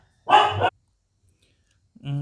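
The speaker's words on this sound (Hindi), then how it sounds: "ये डॉगी मेरा पता नहीं क्यों भौंके जा रहा था।" A dog barks in one short, loud, close burst, followed by quiet and then a voice starting to speak.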